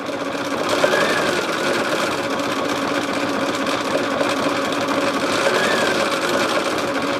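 A Bernina B 790 Pro sewing machine stitches a white border around a Christmas project. It runs as a steady, close, rapid mechanical whir with an even rhythm throughout.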